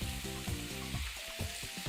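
Mushrooms frying in a wide pan, a loud continuous sizzle with some stirring clatter, close up and without voices.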